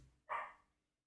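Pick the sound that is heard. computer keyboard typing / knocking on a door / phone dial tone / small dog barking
small dog barking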